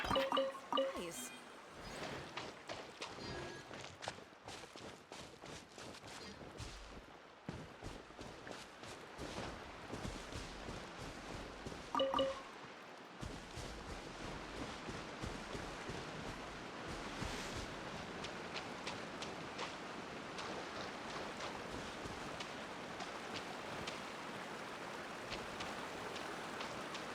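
A small waterfall in Genshin Impact gives off a steady, hissing rush of falling water with scattered splashes and drips, continuous and fairly close throughout, with light footsteps and a few brief game sounds over it.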